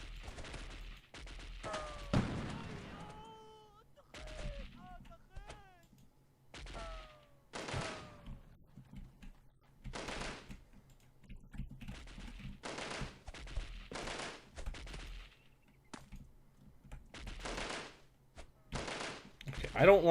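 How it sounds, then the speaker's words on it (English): Gunfire crackles in Delta Force (1998): bursts of sharp shots and short automatic volleys spaced through the stretch, some near and loud, others fainter, with radio-style chatter and someone speaking between them. "I don't like where these shots are coming from"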